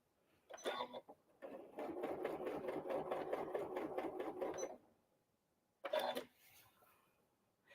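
Janome sewing machine stitching a Christmas tree garland runs in fast, steady mechanical bursts, a short burst, then a long continuous run of rapid needle strokes, a pause, and another short burst, close and moderately loud.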